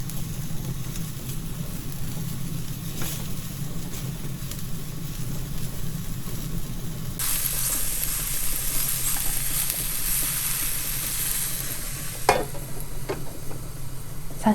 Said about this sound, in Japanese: そして鮭が片面焼けたらひっくり返して空いているところにさっきのきのこを入れます。